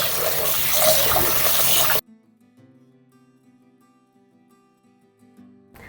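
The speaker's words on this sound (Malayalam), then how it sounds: "അരി കഴുകി അങ്ങ് അടപ്പ് വെക്കാം കേട്ടോ ആദ്യം" Rice being rinsed in water at home while cooking: a loud, dense splashing and swishing for about two seconds, then abrupt near-silence with faint low hum and small clinks.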